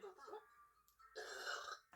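A drawn-out, voiced burp rolls out for about a second after a short vocal sound at the start, loud and close, then trails off abruptly.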